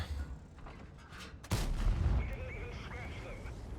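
A tank's main gun fires with a sudden loud boom in a tank video game, its blast and rumble sustained underneath as game sounds and chatter continue afterward.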